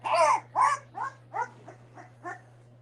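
Boerboel puppy at eleven days old, a close series of about eight short whimpering yips that start loud and fade gradually, over a low steady electrical hum.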